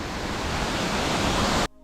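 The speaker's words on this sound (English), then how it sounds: "this waterfall is so cool" Dense roaring rush of South River Falls, an 83-foot waterfall in Shenandoah National Park, Virginia, splitting into a large pool below; loud and steady, then cutting off abruptly near the end.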